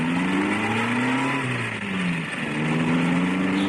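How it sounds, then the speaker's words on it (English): Car engine pulling away in a vintage horror radio drama, a steady mid-pitched drone with pitch rising and falling as it shifts and accelerates, fairly loud and close throughout. "Listen, that's a car."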